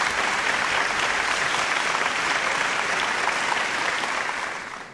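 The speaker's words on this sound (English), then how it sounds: "A big round of applause for him again, please." Audience applause at the SIIMA awards show, dense sustained clapping from a large crowd, loud and even throughout before tapering off at the very end.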